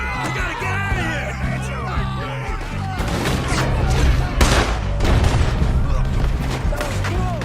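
A gunfight from the video game Red Dead Redemption 2 rattles along under music and shouting voices, with dense, overlapping shots and booms building steadily louder through the second half.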